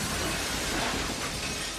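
Glass shattering in a late-1990s slasher film scene, a dense continuous crash of breaking shards lasting nearly two seconds before cutting off abruptly.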